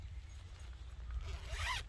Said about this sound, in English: zip this up here